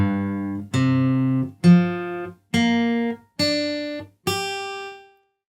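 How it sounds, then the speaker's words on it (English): Open guitar strings played one by one with a capo on the third fret, six distinct plucked notes rising in pitch, each ringing briefly, close and clean with nothing else heard. "If you place the capo on the 3rd fret, the open guitar strings sound like this."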